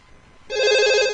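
A telephone rings on an incoming call-back during a radio call-in show, a loud, steady electronic ring that starts abruptly halfway through after a quiet stretch and holds to the end.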